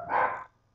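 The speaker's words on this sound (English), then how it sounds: "As I'm stuck with my dog's barking" A dog lets out one short, loud bark close by, fading quickly into quiet.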